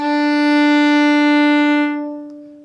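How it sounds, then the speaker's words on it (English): A single sustained bowed note on a violin's open D string, steady and rich in overtones, played alone and close, then fading out after about two seconds. "open D string,"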